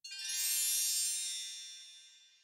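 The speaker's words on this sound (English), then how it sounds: "Now my phone has low battery." Phone low-battery alert, a single bright chiming tone that starts sharply, swells briefly and then rings out into a long fading tail, heard alone.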